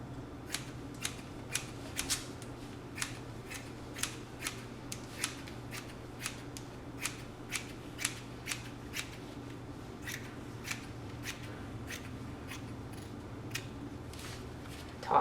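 Scissors slice through the stretchy fabric of a tube top with a regular, crisp snipping rhythm, roughly one or two cuts per second, quiet and close over faint room noise without speech.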